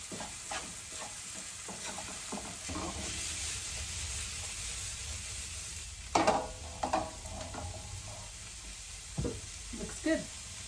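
Vegetables sizzle in a frying pan with garlic powder sprinkled on, a steady frying hiss broken by scraping stirs and clinks of the spoon against the pan, strongest around the middle and near the end.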